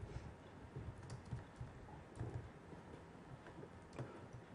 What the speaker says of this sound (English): now I am going to write the code